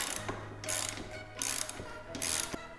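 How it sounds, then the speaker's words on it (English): A ratchet loosens the rear axle nut on a Yamaha TW200 motorcycle, with several bursts of rapid pawl clicking alternating with brief pauses, close and crisp. "I like to take the ratchet now and just go ahead and loosen it the rest of the way"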